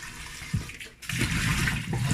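Running tap water splashing over a yam in a clean kitchen sink, a steady close wash with a brief dip and then fuller, louder rushing as the piece is turned under the stream.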